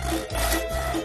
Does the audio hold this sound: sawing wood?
yes